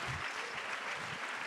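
Audience at a hip-hop panel discussion on the Fight the Power docuseries and 50 years of hip hop applauding, a dense, steady roar of clapping from a large crowd throughout.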